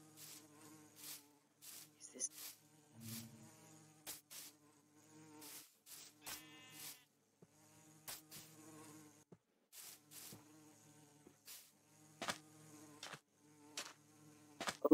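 A Minecraft baby bee buzzes in short, soft bursts amid scattered game clicks and thuds, the drone fading in and out as the bee moves about near the player.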